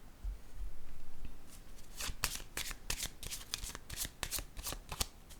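Tarot cards being handled and laid down, a soft rustle of shuffling followed by a run of crisp, snapping card flicks and taps, close and clear, while someone speaks briefly in French.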